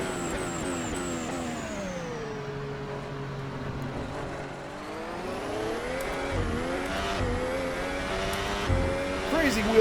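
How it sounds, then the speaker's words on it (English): Car engine in Assetto Corsa revving high in third gear as the wheels spin, harmonic engine tones climbing and falling steadily, loud and continuous with brief tire-squeal bursts near the end. "Crazy wheel spin in third gear."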